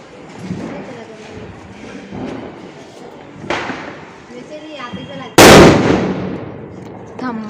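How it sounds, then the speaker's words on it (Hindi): A Diwali firecracker bomb tied to the head of a rocket bursts with one sudden, very loud bang near the end, after scattered thumps and crackles, with voices talking in the background. "देख कैसे जुगाड़ रॉकेट के मुड़ी में लगा है बम"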